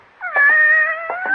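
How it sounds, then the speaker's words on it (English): A tortoiseshell cat gives one long, loud, clear meow close by, steady and drawn out, with a few faint thumps underneath and no talk. "Just about the most beautiful tortoiseshell cat I've ever seen."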